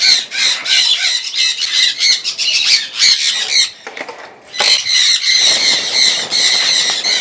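African grey parrots in a breeding setup screech and give harsh alarm calls at a net, a dense, loud chorus of overlapping squawks that briefly thins out midway before surging back.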